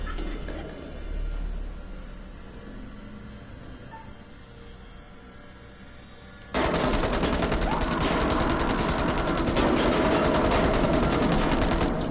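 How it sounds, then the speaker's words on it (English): Gunfire from the Man of Medan video game, shooting up a closet: after a quiet, tense stretch a loud, dense burst of rapid automatic shots erupts and keeps going steadily to the end. "Seems like an odd move to just shoot up a closet that you saw a kid crawl into"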